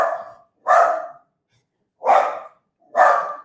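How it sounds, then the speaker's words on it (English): A guard dog barks four times in loud, close, separate bursts, with short silent gaps between them. "Guard dog."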